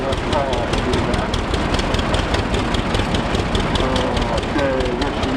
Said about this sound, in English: this is another one of Tim Ruffing's engines. We do have another engine, but it is back there somewhere in the traffic jam. It's a Westinghouse